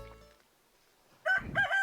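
A rooster crows in a farming video game, a loud harmonic cock-a-doodle-doo in two bursts that follows a quiet lull with faint tones.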